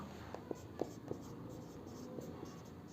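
Chalk or marker taps and scratches in short strokes on a board in a classroom lesson, a handful of distinct knocks spaced irregularly, fairly quiet, over a faint room hum with no talking at that moment.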